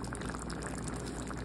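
Curry poured over layered rice in a mess tin, a short, steady liquid pour heard close up on its own.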